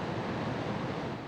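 Floodwater rushing through the opened spillway gates of Chickamauga Dam during Christmas Day flooding, a dense, steady roar of churning water with no voices.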